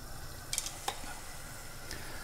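Spaghetti ramen stirred in a pan over high heat, a few scraping stirs and clinks over a faint steady sizzle, close and fairly quiet.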